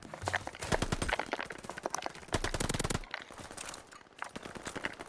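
Call of Duty gunfire comes in rapid automatic bursts, several sustained strings of shots separated by short pauses, loud and close with footsteps and other game sounds between them.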